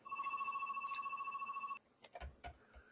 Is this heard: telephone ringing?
yes